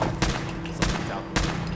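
Gunshots in Fallout 4 ring out as three evenly spaced, loud blasts over a dense, continuous game soundscape, with no talking.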